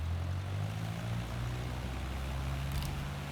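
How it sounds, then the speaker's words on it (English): Cessna 152 propeller engine in Microsoft Flight Simulator, a steady loud low drone with constant hum and no talk throughout. "Let's just fly our Cessna"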